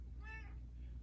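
A single short meow from a cat named Cheesy, faint and brief against a quiet indoor room.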